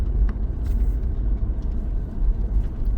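A car driving along a quiet rural road at dusk, steady low engine and tyre rumble heard from inside the cabin, continuous and fairly loud with no talking.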